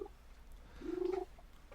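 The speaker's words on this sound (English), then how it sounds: "It's my cat. He jumped up on the table." A house cat that has jumped onto a table gives a short, low rumbling purr with a brief tonal murmur, faint and close, heard alone in a quiet room.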